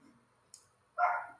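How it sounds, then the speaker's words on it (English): A dog barks once in a quiet room, a short, clear yap after a faint click, fairly close and alone without any talking. "If you hear my dog, sorry about that"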